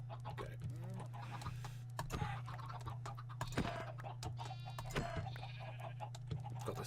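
Chickens in the game Minecraft cluck and squawk in quick, scattered bursts over a steady low hum, with many birds close together and a faint voice occasionally.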